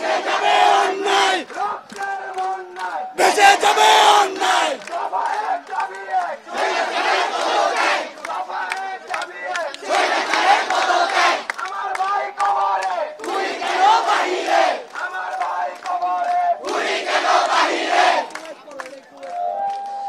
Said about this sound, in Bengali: আমরা আপনাদেরকে তাদের যেই স্লোগান, এই স্লোগানটি একটু শোনাতে চাই